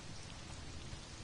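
Steady rain in the video game Conan Exiles on a dull, overcast day, a dense continuous hiss of falling drops with no other sound.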